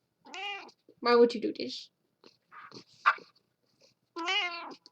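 A pet cat meows several times, drawn-out tonal cries close by, with a person talking to it in between.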